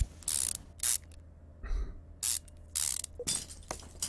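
Sway bolt tightened with a ratchet in the Car Mechanic Simulator 2015 video game: several rapid bursts of mechanical ratcheting clicks with short pauses between them, close and clear, no voices.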